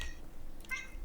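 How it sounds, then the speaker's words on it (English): A brief, soft cat meow sounds once from the video game Smalls Island Woes, short and faint over a quiet background. "There's a cat."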